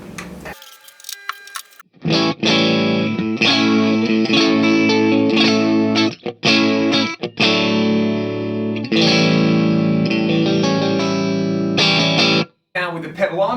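An electric guitar played through a Ceriatone Son of Yeti amp with a Way Huge Aquapus delay pedal in the effects loop rings out in loud sustained chords and notes, with short breaks between phrases and a brief silence near the end.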